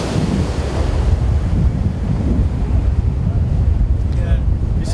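Small ocean waves washing in at a surf spot, a loud continuous roar of surf close by with heavy wind buffeting the microphone throughout.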